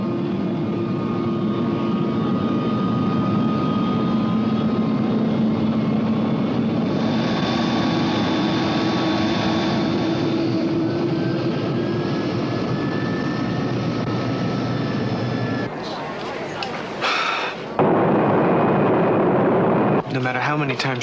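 Flight 608, an airliner taking off from a runway, produces a steady, loud engine drone with whining tones that holds for about twenty seconds, with voices speaking over it near the end.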